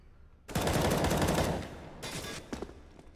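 Rifle fire in Counter-Strike: Global Offensive erupts in a loud, sustained burst of rapid shots lasting about a second, followed by a few more scattered, sharper cracks and a shorter second volley.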